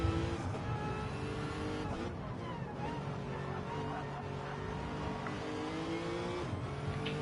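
A race car laps a track during an Autocare practice session, its engine droning continuously with shifting pitch as it accelerates and brakes, fairly distant and steady with a commentator's voice faintly underneath.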